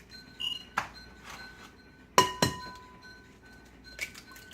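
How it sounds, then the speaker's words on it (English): Eggs cracked for breakfast egg muffins in a home kitchen give a few sharp, bright taps and clinks against glass, coming in brief isolated bursts with quiet gaps between them. "now I'm just going to go ahead and start cracking the eggs"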